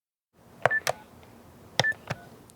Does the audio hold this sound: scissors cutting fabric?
no